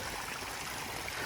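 Irrigation water from a well running onto sweet potato beds, a steady broadband rushing and trickling flow, close and continuous without pause.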